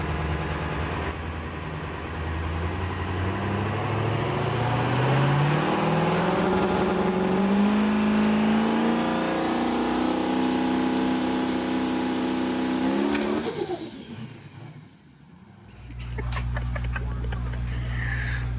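A drag race car launches on a Christmas Tree test pass, its engine roaring loud and rising in pitch for about thirteen seconds before cutting off abruptly, then settling into a low idle.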